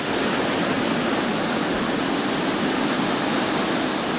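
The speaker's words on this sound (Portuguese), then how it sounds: "Outra atração do lugar é a Cachoeira de Curimataí, na Serra de Minas." Curimataí waterfall in Serra de Minas, falling down a marble wall, roars as a steady, dense, loud rush of water, continuous and close with no pauses or voices.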